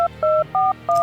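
Four quick, evenly spaced touch-tone keypad beeps sound clearly in sequence as the cell phone dialing effect of the Morphtronic card from the Yu-Gi-Oh card game plays out.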